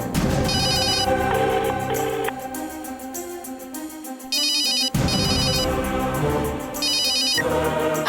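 A phone ringtone plays for an incoming call, a loud, repeating melodic tune with a short pause midway before it starts again, with no voices.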